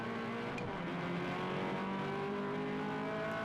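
Engine of a Toyota 86 race car, TR 86 series at Manfield, heard from onboard: a loud, steady engine drone held at high revs throughout, with no talk.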